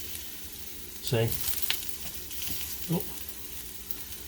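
Olive-oil-brushed potatoes, some purple, lightly salted and laid in a hot grill pan, hiss with a steady close sizzle, broken by a couple of brief louder bursts as pieces go in and a short exclamation.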